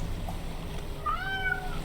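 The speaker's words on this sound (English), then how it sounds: "There is meows." A cat meows once, drawn out and rising, in the fishing game Dredge, heard over a low murmur of game ambience and water.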